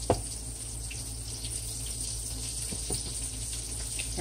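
Chicken frying in hot grease gives a steady, close sizzle and crackle that stays even throughout, with a few brief pops and no talking.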